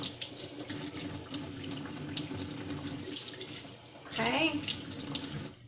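Cardoon stalks are rinsed under a running kitchen tap, a steady close water rush with a brief splashing change near the end as the stream hits the stalks, and a voice says a single short word.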